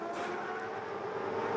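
A Supercars V8 race car driven hard at Bathurst, a brief, fairly faint engine roar that holds a steady drone without any talk over it.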